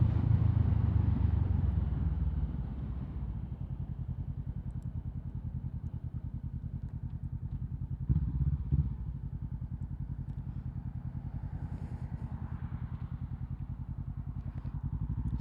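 A 500cc motorcycle rolling along Thai roads, its engine a steady low throbbing close by, louder at first then settling into an even cruise with a brief surge midway, and no voices.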